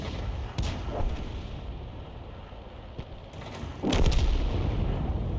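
Artillery rounds fire in a World of Tanks battle, sounding as a few distant booms and sharp cracks, with one heavier blast near the end, all set against a low ambient game hum.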